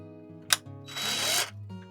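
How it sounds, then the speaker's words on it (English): A handheld drill bores gently into a carving, a short close whir of about half a second after a small click, over steady background music. "drill in a little bit"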